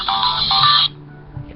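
An incoming-call ringtone on a phone plays a bright electronic chirping melody, loud and close, then cuts off abruptly partway through, leaving a quiet room hum.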